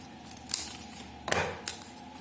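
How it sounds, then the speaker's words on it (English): Scissors snip through paper being cut for a homemade paper DL-44 blaster, three short crisp cuts spaced apart, close and fairly quiet with no talking. "now we will cut it"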